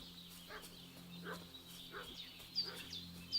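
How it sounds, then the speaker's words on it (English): A dog in Kingdom Come Deliverance II barks in a steady series of short, fairly faint barks heard at a distance over low background ambience. "What's that dog making such a fuss about?"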